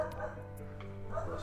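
A dog yips and whimpers in a few short bursts, close by, over a steady hum of background sound.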